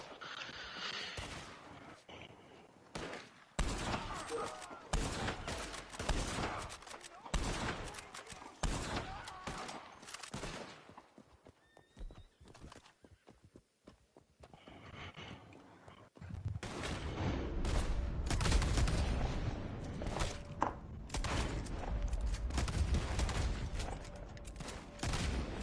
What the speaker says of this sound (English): I am shooting my own allies.